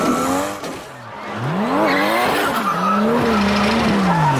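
A car skids and wrecks during a street race in a movie scene: sustained tire squeals rising and falling over engine roar, loud and continuous throughout with no talk.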